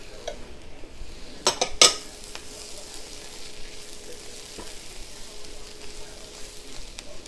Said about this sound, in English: So now we're going to throw in our mushrooms, and now we're set.